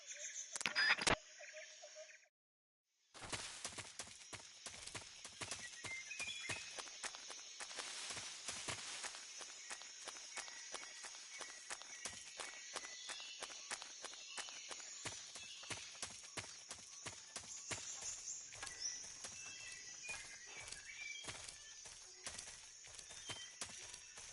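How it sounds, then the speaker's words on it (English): Steady rhythmic footsteps approach in the stealth video game Metal Gear Solid 3, a long, even run of quiet clopping steps after a short electronic tone, continuing without pause under faint ambience. "I hear footsteps."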